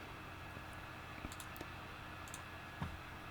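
A few quiet, sparse clicks of a computer mouse on a software tab in 3ds Max, isolated taps spaced irregularly against a low steady hiss.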